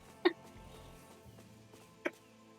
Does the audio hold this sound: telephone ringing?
no